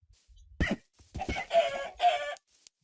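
Chickens in a video game clucking in a few squawky bursts, with a louder pair of calls at the end, close and alone without talk.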